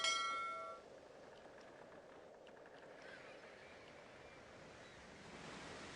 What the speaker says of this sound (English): The wind is whisking by to the west.